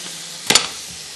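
Whole chilies drop into hot oil while yakhni pulao is being cooked, giving one sudden, short crackling sizzle that bursts up and quickly dies back into a quiet background.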